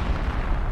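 Artillery in the World War II strategy game Company of Heroes 2 rumbles as a dense, continuous low roar of distant blasts with no distinct single report.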